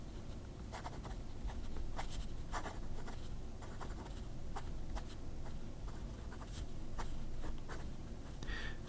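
An extra fine fountain pen nib scratching across paper, a steady fine scratchy stroke with rapid small ticks from letter strokes, close and continuous over a low background hum.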